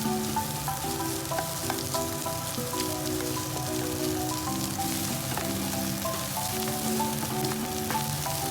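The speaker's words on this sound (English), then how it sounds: "Add rice and stir-fry over high heat." Rice stir-fries over high heat in a hot pan with oil, butter and egg, giving a steady loud sizzle and crackle with scraping and tossing clatter throughout, no voices.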